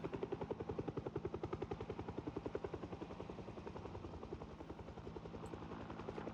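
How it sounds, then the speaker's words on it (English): A helicopter from a random event in the video game Project Zomboid flies overhead, its rotor beating in a steady rapid chop that holds even and fairly loud with no talk over it. "Friggin' helicopter event."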